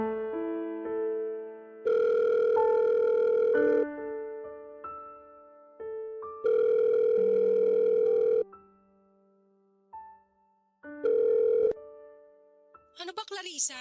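Telephone rings in bursts on an incoming late-night call, a loud repeated tonal ring alternating with quieter gaps over background music, fairly close.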